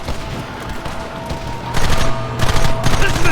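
Gunfire bursts out in a Red Dead Redemption firefight, a rapid fusillade of shots erupting after a rumbling, bumpy ride and swelling in loud clusters toward the end, with a low engine-like drone beneath.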